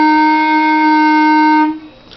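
A single sustained woodwind note F, played with the thumb only, steady and bright with rich harmonics, held for nearly two seconds before stopping cleanly.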